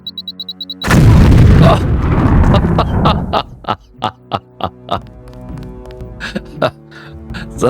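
Mine explosions in the Deus Ex video game: a big blast bursts in after faint beeping, then a long string of sharp detonations echoes at steady intervals.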